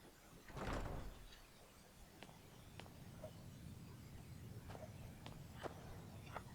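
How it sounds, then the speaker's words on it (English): A heavy door swings open in the video game Skyrim, a single low rumbling thud and creak near the start, followed by a quiet ambient interior bed with a few faint clicks. "Let's try this door."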